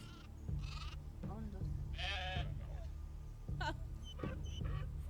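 Sheep and goats in the Dawn of Man game bleating repeatedly, several separate cries over a low steady hum with a faint voice talking underneath.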